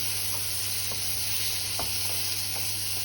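Wine splashes into a hot pan of champignon mushrooms cooking with crème fraîche, setting off a steady loud hiss and sizzle, with a few soft stirring knocks; close up, no one talking.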